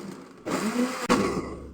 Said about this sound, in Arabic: بعد ما ضفنا الحليب بدنا نخلطه شوي مع الكرز